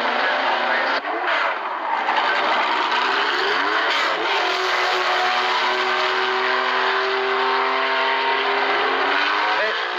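Race car number 11, driven by Jacky Ickx and Derek Bell at the 1975 Le Mans 24 Hours, pulls away with a loud, sustained engine roar whose pitch climbs through the gears, close and dominant throughout.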